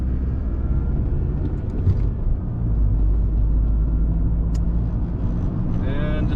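A car drives along a road toward Valley Center, its steady low engine and tyre rumble continuous and close throughout, with faint higher whines drifting in near the end.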